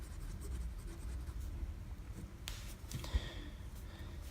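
Steel medium fountain pen nib inked with Pilot Iroshizuku Ku-Jaku, a Diplomat Esteem, scratching across smooth waxy Rhodia paper; a soft, close, continuous scratchy stroke sound with a few brief sharper ticks, no talking.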